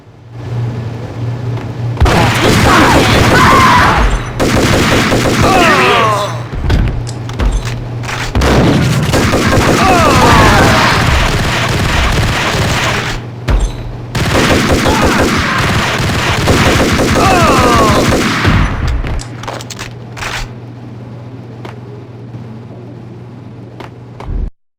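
Gunfire in a shootout in the video game Max Payne, several loud bursts of rapid shots and booms separated by short pauses over a low steady hum.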